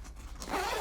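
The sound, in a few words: zipper on Planet Eclipse GX2 Classic kitbag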